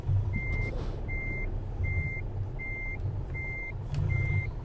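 A truck in Euro Truck Simulator 2 reverses with six evenly spaced, high electronic warning beeps sounding over a steady low engine rumble, close and clear with no speech.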